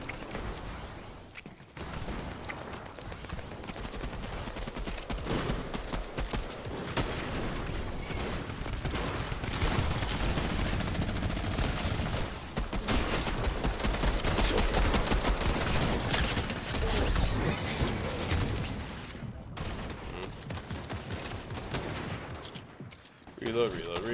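Sustained rapid gunfire in a shooter video game, dense continuous bursts and reload clatter filling the whole stretch with only brief lulls, loud and close.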